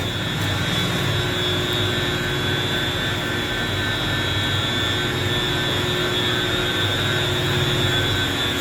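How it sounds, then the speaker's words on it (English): Two water pumps running at once inside the City of Ukiah water treatment plant, one moving about 1,670 gallons a minute and the other about 580, make a loud, steady mechanical roar with a constant hum and whine throughout, no voices. "It is going to get kind of loud because 2 of the pumps are running at the moment."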